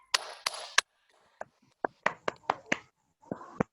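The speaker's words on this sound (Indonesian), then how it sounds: "Aplaus untuk kelompok 4 yang sudah mempresentasikan." Classroom applause for a student group after their presentation, a brief scattering of a few claps that starts and stops unevenly, sounding thin and close rather than a full round.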